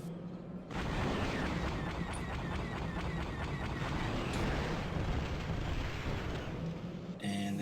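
A tank is blown apart in Star Wars Battlefront II, a sustained loud roar of explosions and rumbling blasts that fills several seconds before cutting off abruptly.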